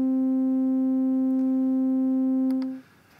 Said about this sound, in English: this clip just contains a single middle C note.